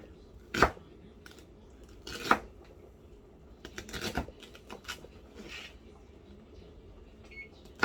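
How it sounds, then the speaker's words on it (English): A knife dices small potatoes on a cutting board: a few sharp, separated chops and a short cluster of quicker cuts, fairly quiet, with pauses between. "Maybe it's better dicing it real small because my potatoes are small."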